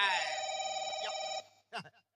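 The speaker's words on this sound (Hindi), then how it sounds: "काकर फोन आ गए रे।" A mobile phone ringtone plays steadily and fairly close, a sustained tonal ring that stops abruptly, followed by a brief spoken voice.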